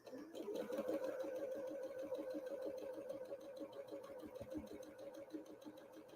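A sewing machine stitching a Peony Star quilt block, a steady fast mechanical whirring and rhythmic needle chatter running continuously at low volume close by.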